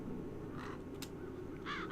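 Crows caw in the video game The Dark Eye: Chains of Satinav, a few rough calls spaced through the stretch, the last loudest and nearest, over a steady low ambient hum with no talk.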